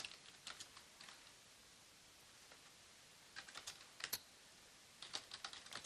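Someone types on a computer keyboard in quiet, irregular bursts of soft key clicks, with short pauses between flurries.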